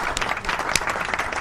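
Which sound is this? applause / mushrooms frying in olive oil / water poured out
applause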